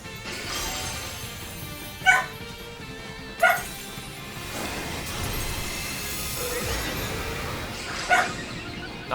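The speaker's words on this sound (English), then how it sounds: "I kind of forgot my dog was even in this room" A pet dog barks in a room, three sharp separate barks a few seconds apart over a steady background of game music.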